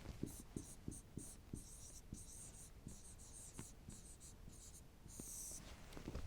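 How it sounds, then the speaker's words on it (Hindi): A teacher writing on a board during a Python programming lesson, with repeated short scratchy strokes and taps in an uneven rhythm, quiet and close, with faint background hum. "देखिए मैं यहां पर लिख देता हूं।"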